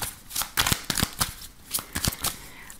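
Lenormand cards being shuffled by hand, a quick series of crisp riffling and flicking bursts close to the listener, with no talk over them.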